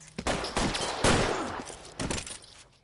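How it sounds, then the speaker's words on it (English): Gunfire rings out in the L.A. Noire video game, a sharp burst of shots and then two more loud volleys with scraping noises between them. Nobody speaks. "211 and shots fired"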